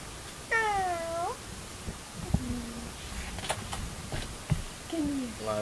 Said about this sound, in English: This cat.